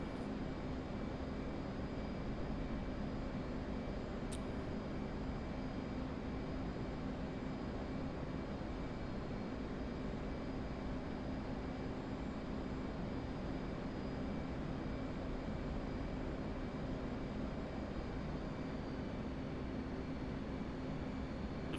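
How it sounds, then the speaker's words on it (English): A Predator drone's engine drones on steadily in the game DCS, a constant, even hum with a faint whine that holds unchanged from start to finish with no voices. "it looks like a Predator drone"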